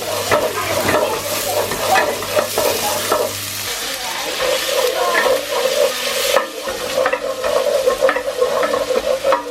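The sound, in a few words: garlic and ginger frying and stirred with soft onions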